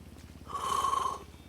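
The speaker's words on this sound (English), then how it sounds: "I'm sorry for yawning." A person's long yawn lasting under a second, a breathy, drawn-out tonal exhale rising over low rhythmic background rumble, close and moderately loud.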